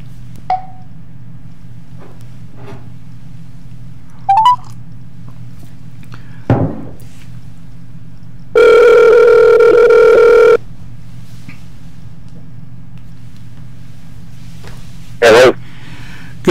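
Office desk telephone with a few short dialing beeps and clicks, then a steady two-second tone and a brief final tone, all over a low background hum.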